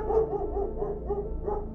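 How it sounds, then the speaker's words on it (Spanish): A dog barking repeatedly at close range, a steady series of about six muffled, rhythmic barks with a low rumbling background. "El perro no dejaba de ladrar y se escuchaba muy cerca de mí."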